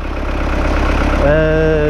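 A 780 tractor engine runs steadily while sowing sunflowers, a continuous low idling rumble close by, with a rising tonal whine joining near the end.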